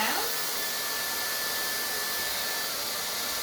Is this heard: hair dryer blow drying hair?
yes